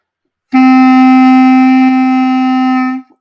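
One sustained clarinet tone, the note D, steady and full, played alone and held for a few seconds before stopping.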